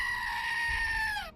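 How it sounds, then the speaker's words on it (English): A single loud, sustained goat scream rings out close up, a harsh bleating cry held for over a second before it drops away abruptly at the end, with no one talking. "And a goat scream."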